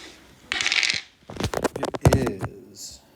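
Dice roll and clatter across a desk in a classroom, a short burst of rattling clicks and bounces lasting about two seconds, close and fairly loud.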